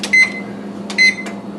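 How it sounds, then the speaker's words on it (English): An oven's control panel gives two sharp electronic beeps, about a second apart, as the broiler is switched to its highest setting, close and loud over a low hum. "I'm going to turn on the broiler now that the oven is all the way hot."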